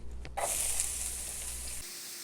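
Onions drop into a hot pan with a couple tablespoons of extra virgin olive oil and start a bright, steady sizzle, close and continuous, with a low background hum underneath that cuts out near the end.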